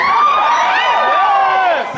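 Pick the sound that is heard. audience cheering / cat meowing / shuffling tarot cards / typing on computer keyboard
audience cheering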